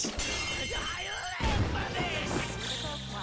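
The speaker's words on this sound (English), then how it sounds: "An enemy's frozen. Shattering." Ice shattering on a frozen enemy in Persona 5 Royal: a sharp glassy crash and tinkling burst over game music and effects, with a voice talking over parts of it.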